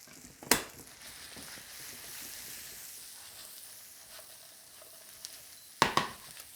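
Bacon, onion and potatoes hiss and sizzle in a frying pan, a steady crackle with two sharp clatters as the pan is tossed near the start and end.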